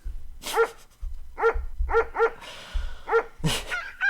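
A small dog barks repeatedly at close range, sharp yappy barks coming singly and in quick pairs, loud and clear with a brief whine near the end.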